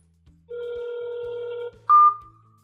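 A phone placing a call gives a steady ringback tone lasting about a second, then a brief higher electronic beep, heard clearly and alone over a faint hum.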